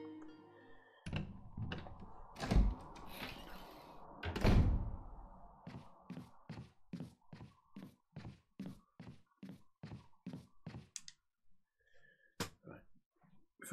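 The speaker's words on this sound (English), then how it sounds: "Go through the door, Chris, come on." In the Resident Evil remake, a door opens with a heavy thunk and creak, followed by a long run of regular footsteps. The whole sequence is faint and has no talking over it.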